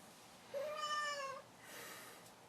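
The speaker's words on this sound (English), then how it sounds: "I apologize for the feline interruption in the editing" Bob the cat lets out one clear, drawn-out meow close by, followed by a softer trailing cry, with no talking.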